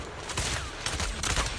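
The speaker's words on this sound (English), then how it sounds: "Watch out for Grim Vulture taking shots from afar." Sniper fire in the video game Zenless Zone Zero lands as a quick run of loud, sharp shots against a dense, noisy game soundscape.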